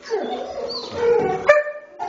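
Dogs belonging to a homeless man settling in at a night shelter, giving short whimpers and yips in a brief run of close, moderately loud canine vocalizing, with a voice briefly present.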